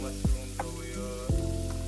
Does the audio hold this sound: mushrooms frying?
yes